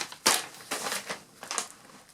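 Scissors cut the corner of a scrapbook page, giving a few sharp crunching snips with short pauses between them and no talking.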